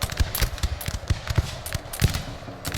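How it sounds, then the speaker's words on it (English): Rapid gunfire from musket units shooting in the Shogun 2: Total War video game, a dense string of sharp cracks and pops in uneven bursts, loud and continuous across the clip with no talking. "we can kinda try to shoot them"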